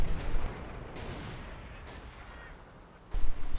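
Grenade blasts in a World War II combat video game, heavy booming bursts at the start and again at the end with a rumbling lower stretch between, no voices.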